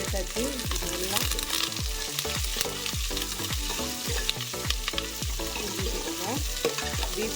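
Shallots frying in hot oil with green chilli and curry leaves as the base for a beef gravy, a continuous close sizzle broken by regular rhythmic scrapes and clanks of a spoon stirring the pan.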